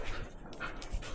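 Shop dogs panting in a garage where a 1953 Ford Victoria is being worked on, a quick breathy rhythm close by over a noisy, hissy room background, with no one speaking.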